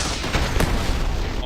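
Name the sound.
gunfire while shooting in video game Starfield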